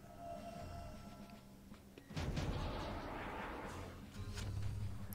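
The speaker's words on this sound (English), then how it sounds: "toss grenade, hope it hits both of them" A grenade bursts in the Septerra Core video game, a sudden booming blast partway through that rises over a low background hum. The rumble carries on, and a second surge of noise comes near the end.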